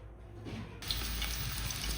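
Sliced potatoes frying in oil in a pan, a steady close sizzle that swells up sharply after a quieter start and then continues evenly.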